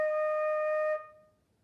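A single sustained flute note on E flat, clear and steady for about a second before stopping cleanly, leaving a short fading tail and silence.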